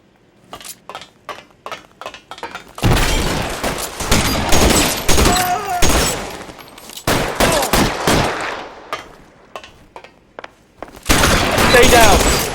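Rapid bursts of gunfire in the video game LA Noire, sporadic shots at first, then long dense volleys of automatic fire alternating with single cracks, loud and close, with shouting voices in between.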